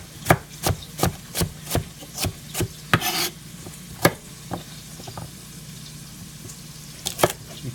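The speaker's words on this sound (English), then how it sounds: "So I'm just going to cut these carrots so that they again look similar to" A sharp kitchen knife cuts carrots on a board for chicken cacciatore, first in a quick, even run of about a dozen crisp chops, then in a few sparser cuts, close and clear with no talking.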